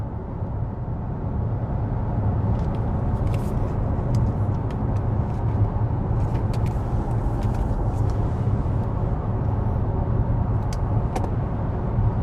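Inside a Lexus RZ 450e electric car on the move, a steady low road and tyre rumble fills the cabin, with occasional faint clicks and no speech.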